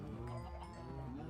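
Cows lowing in Minecraft (Agrarian Skies), a faint, brief burst of overlapping low moos with no talking.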